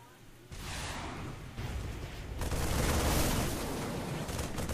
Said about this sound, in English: those siege tanks are just pummeling him with shells